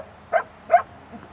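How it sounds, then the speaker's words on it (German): Two short, sharp barks from a search dog, a Belgian or German shepherd, at a disaster rubble site. They come about half a second apart, followed by a faint third sound. "Ein belgischer Schäferhund und ein deutscher Schäferhund rennen los, um nach verschütteten Personen zu suchen."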